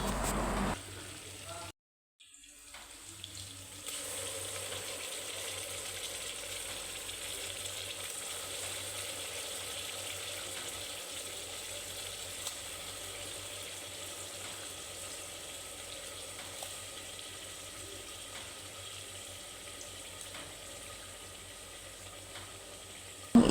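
Beef for a beef curry fries in a pan, making a steady, moderately loud sizzling hiss that runs unbroken for over twenty seconds after a brief pause near the start.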